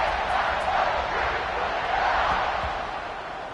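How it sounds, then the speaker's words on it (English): A football stadium crowd at an NCAA game buzzes steadily after a touchdown, a dense, continuous roar of many voices holding at a loud level throughout before easing slightly at the end. "this crowd is buzzing after that last score."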